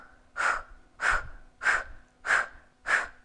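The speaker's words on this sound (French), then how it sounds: "on respire en ujjayi, avec le fond de la gorge, comme si on voulait racler sa gorge" Five steady ujjayi breaths drawn through the back of the throat, each a rasping, hissing exhale of about half a second, evenly spaced and close up, with no talking.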